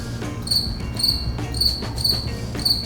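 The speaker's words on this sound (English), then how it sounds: "And there's now a cricket in here." A cricket chirps indoors in a steady series of bright, evenly spaced pulsing trills, close and clear over faint room noise.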